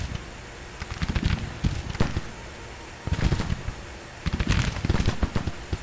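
Musket volleys in a Civil War battle game crackle in uneven bursts, overlapping pops rising over a steady broadband roar of battle ambience, with clustered salvos around the middle and end.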